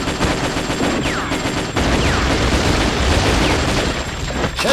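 Heavy machine gun in the video game Metal Slug 3D: loud, rapid, continuous bursts of gunfire with a steady rattling rhythm and occasional whistling ricochets, filling several seconds.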